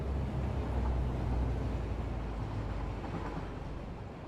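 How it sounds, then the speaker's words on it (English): A train rolling along a rail line in the factory-building video game Satisfactory, a steady low rumble that fades slightly toward the end and plays on its own without talk. "Look, we even have a train using this line already."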